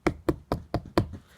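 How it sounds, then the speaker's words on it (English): Five firm knocks on a door in a quick, regular rhythm, close and clear with brief silences between, with no talking. "The three little fish had just finished lunch when they heard the big bad shark knocking at their"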